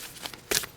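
Tarot cards are shuffled close up, giving a short, soft riffle followed by two brighter, louder bursts of sliding card noise.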